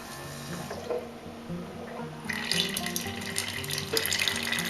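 Water streams steadily from a Keurig coffee maker as it brews and pours into a cup, a continuous hiss and splash that grows louder and fuller partway through and runs on alone without talk.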